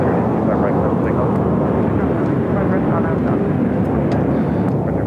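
A jet airliner takes off from runway 25 right at LAX, a loud, steady broadband engine roar held throughout, with radio voices talking over it.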